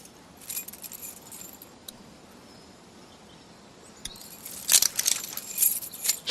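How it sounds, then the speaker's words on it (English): Metal keys jangle in The Walking Dead video game, a brief clink early on, then a louder, busier rattling of the bunch toward the end over quiet background. "Right, let's get these keys."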